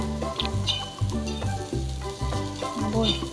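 Onion and grated coconut roasting in a pan for a Maharashtrian masala paste, a steady loud frying sizzle with repeated stirring scrapes and clatters throughout, no voices.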